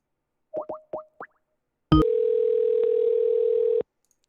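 A few short rising beeps are followed by a sharp click and then a steady, loud electronic tone lasting about two seconds from a phone call reaching an automated messaging system.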